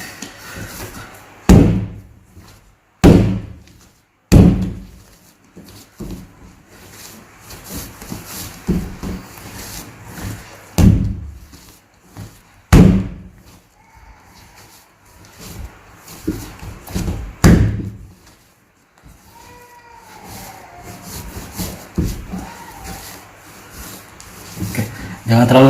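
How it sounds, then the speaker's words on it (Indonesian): Donut dough is slammed onto a counter by hand during manual kneading, giving loud, heavy thuds at irregular intervals that stand alone or follow each other in quick pairs, with quieter handling sounds between them and no speech. "Terakhir, proses terakhir kita banting-banting ya."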